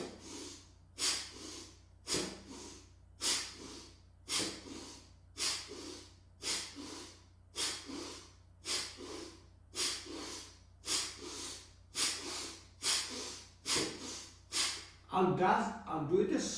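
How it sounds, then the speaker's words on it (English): Bhastrika yogic bellows breathing, a steady run of about fifteen forceful, rhythmic breaths close to the mic, each a sharp hissing rush of air, quickening into rapid panting near the end. "you use your lung like a bellows. Bhastrika."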